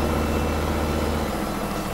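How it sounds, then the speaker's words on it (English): Underpowered tractor engine labouring in Farming Simulator 2017, a steady, loud low drone with a dense mechanical hum that eases slightly partway through, no speech. "This tractor is struggling."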